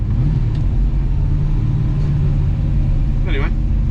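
A Holden HT Monaro idles in a steady, close, low engine rumble that holds unchanged throughout, with a brief higher chirp near the end.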